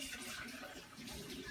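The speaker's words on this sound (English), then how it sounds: "I'm just gonna wash these out. I just do it with hot water." Hot tap water runs steadily into a kombucha jar being rinsed out, a soft continuous splashing rush at low level.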